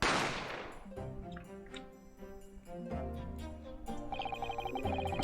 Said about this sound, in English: I didn't have time to think about where the sound of the gunshot had come from